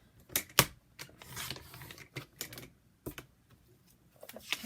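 Scissors snip a paper tab off a handmade blue journal, giving a few sharp close clicks and crisp crunches spaced irregularly over near silence, with no talking.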